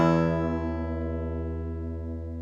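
The low and high E strings of a guitar ring together, two octaves apart, slowly decaying and blending into one steady tone.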